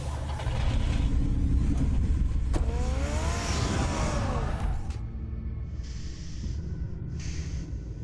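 Car engine in a Batman video game rumbles steadily with a whooshing sweep and rising whine midway, then settles into a lower hum.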